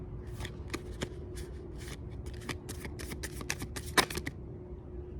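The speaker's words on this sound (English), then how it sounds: "makes me shuffle these cards like 2-3 times until the card spirit wants comes out" Tarot cards shuffled by hand at close range, a steady run of crisp riffling slaps and flicks with one sharper snap near the end, no voices.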